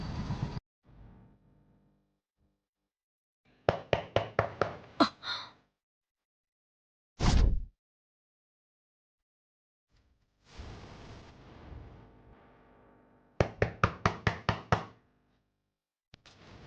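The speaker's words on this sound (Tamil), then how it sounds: "வெளியில யாரோ கதவை தட்டுறாங்க." Two quick bursts of sharp, loud knocking on a door from outside, each a rapid run of about five or six raps, separated by quiet stretches with breathy gasps and soft rustling.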